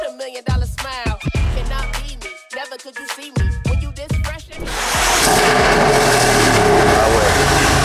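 Engine of a modified BMW X5 roaring loudly and steadily after a stretch of speech, a dense sustained rumble filling the second half close by.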